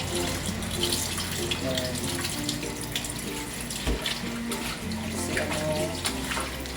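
Tap water runs steadily into a sink while raw chicken is washed by hand, a close, continuous gush with shifting splashes as the pieces are rinsed, and a voice speaks briefly over it.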